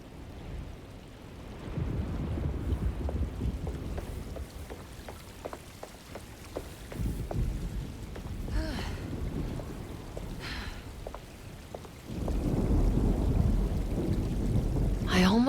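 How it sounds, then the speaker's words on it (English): Stormy weather in the Alone in the Dark video game (2024): steady rain hiss with low rumbling thunder swelling and rolling throughout, growing heavier and louder toward the end, with no voices. "Looks like a storm's coming."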